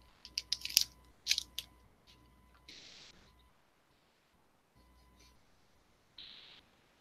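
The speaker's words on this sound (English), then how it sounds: "Sorry, guys, if I'm chewing in your ear." Someone chewing crunchy food right at the microphone: a few sharp, crisp bites in quick succession, then a pause and softer rustling, all close and fairly quiet.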